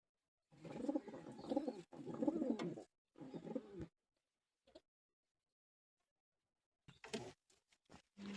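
White domestic pigeons cooing in a loft with hatched chicks, several close, soft rolling coos in two longer bursts and a shorter one, then quieter scattered sounds after a pause.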